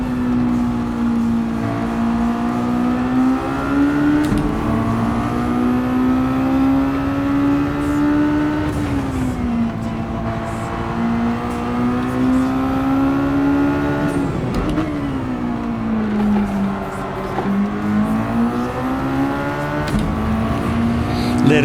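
Mazda Roadster touring car lapping the Deep Forest circuit in Gran Turismo 7, its engine droning steadily and loudly with rising and falling pitch as it revs through gears and corners, continuous throughout.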